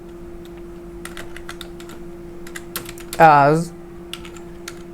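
Code typed on a computer keyboard: scattered, quick key clicks tap out irregularly, fairly close and crisp, with a brief spoken word partway through.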